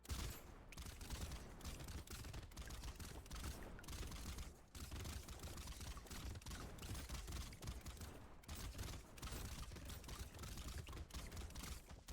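Rocket launcher fire in the video game Brotato, a dense run of rapid repeated blasts and crackles, fairly faint, with a few short gaps between bursts.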